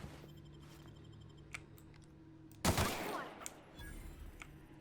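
Gunfire in the video game The Outer Worlds while shooting bad guys: a sudden loud burst of shots after a quiet stretch of game ambience, followed by a few fainter clicks and tails.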